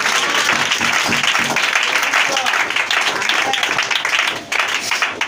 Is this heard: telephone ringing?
no